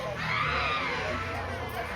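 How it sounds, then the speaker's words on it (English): Desperate screaming from inside an apartment, caught on a recording: a sustained, shrill, wavering cry that is muffled and somewhat distant, continuous for the whole moment with no pauses. "the desperate screams coming from that apartment are absolutely chilling"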